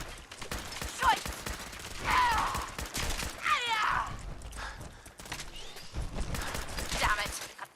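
Gunfire in Fallout 4 during a fight with Mirelurks, bursts of shots scattered through the stretch, mixed with a creature's groans and a voice speaking over the action.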